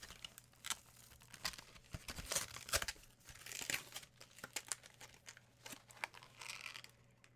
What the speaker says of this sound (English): let me rip this out of here